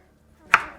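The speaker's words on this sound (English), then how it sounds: "I'm just going to chop it up" A knife makes a single sharp chop through vegetables on a cutting board. The crisp thud is close and brief, with near silence before it.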